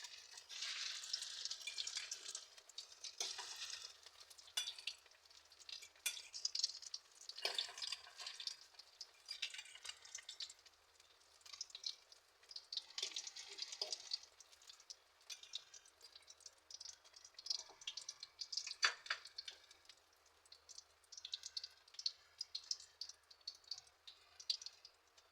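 Tikoy, a sticky rice cake, cooking in a pan for Chinese New Year, with a steady close-up sizzle and frying hiss broken by scraping and stirring sounds, no voices.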